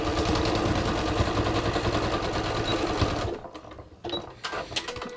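Sewing machine running a straight stitch along the side seam of a yoga pants waistband on ready-to-wear jeans, a steady fast mechanical whir that stops after about three seconds, followed by a few faint clicks and handling noises.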